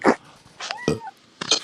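A house cat in an apartment gives a few short meows and a brief yowl, close and clear, spaced out over a couple of seconds with small rustling sounds between them.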